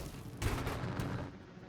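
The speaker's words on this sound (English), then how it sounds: "Finally, a reasonable looking explosion." A sky crane built in a video game explodes with a sudden broad boom and a rumbling, crackling tail that fades over a second or so, heard without talk.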